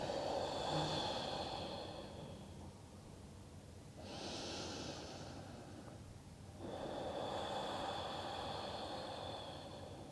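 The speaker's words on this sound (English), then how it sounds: "Two more breaths." Slow, deep yoga breaths drawn in and let out through the nose, three long airy cycles of several seconds each, close and soft with no talking.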